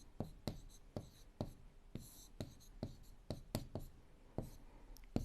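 Chalk writing out an equation on a classroom board, a steady series of crisp taps and short scratches, about a dozen strokes at an uneven rhythm, close and fairly quiet with no talking.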